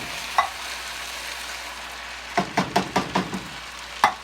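Beef tips and canned beef gravy sizzle in a pan while a spoon scrapes and stirs, first with a single clack, then a quick run of rhythmic knocks against the pan and one final tap.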